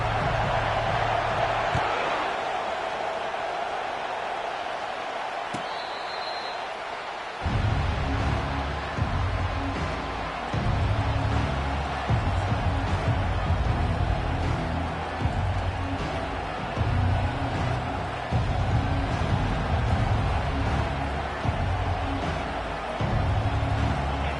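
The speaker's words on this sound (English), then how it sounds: "This crowd trying to show them what it's going to be like all day in this house." A football stadium crowd at a season-opening Tar Heels game sends up a sustained, loud roar that swells into rhythmic pulsing cheers, filling the whole stretch with no clear voice over it.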